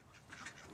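Quacking from a flock of domestic ducks, faint and somewhat distant, running as a steady overlapping murmur with no talk.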